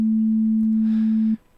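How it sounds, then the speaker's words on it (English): An Ableton Operator FM synthesizer plays a pure, steady low sine tone that holds loud and unchanging for over a second, then cuts off cleanly into near silence. "We have our sine wave to start out"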